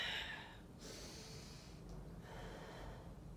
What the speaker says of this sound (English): So we're going to exhale on the lift and inhale on the lower.